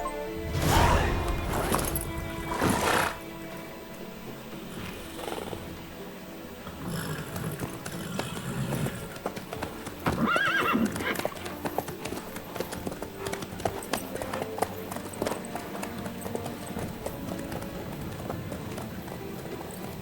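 A horse gallops in the Witcher 3 game world, hooves drumming in a steady fast rhythm through most of the stretch with a few heavier thuds and rustles, fairly close, without any clear neigh.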